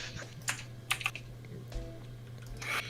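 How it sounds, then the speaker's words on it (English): Clicky typing on a mechanical gaming keyboard fitted with Cherry MX Blue switches, irregular scattered keystrokes and short bursts heard faintly at a distance, with a low steady hum underneath. "I'm getting some clickety clacks of some keyboard."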